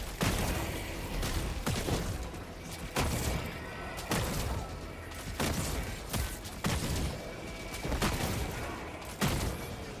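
Rapid gunfire in Helldivers 2, a steady run of about a dozen loud, sharp shots or blasts at roughly one-second intervals over a constant roar of combat noise, no talking.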